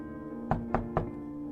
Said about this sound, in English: I knocked 3 times